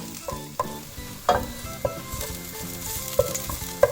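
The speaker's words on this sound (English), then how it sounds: "Just let the garlic slightly brown" Garlic browning in a hot pan for a creamy baked egg dish, with a steady sizzle and repeated clinks and scrapes of stirring throughout.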